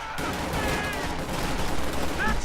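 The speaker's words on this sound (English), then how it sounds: "activate volley fire on these Stoom Pioneers" Rifle volley fire from infantry in Company of Heroes 2, a dense crackle of overlapping gunshots rolling on steadily amid other battle noise, with a few short radio-like tones on top.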